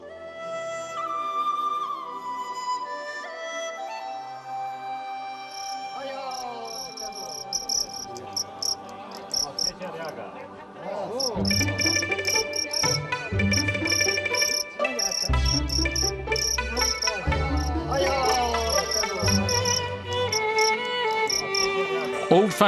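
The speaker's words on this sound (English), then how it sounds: "Old-fashioned cricket fighting is still practiced in one of the popular tea houses" Crickets chirping in a tea house where old-fashioned cricket fighting is practiced, high thin trills repeating steadily over a layered background of tones and low thumps.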